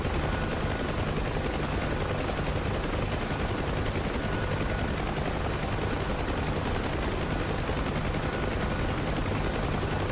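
Steady rattling gunfire from units shooting in a flight simulator game, a constant dense crackle of rapid shots over an engine-like drone, unbroken and moderately loud throughout.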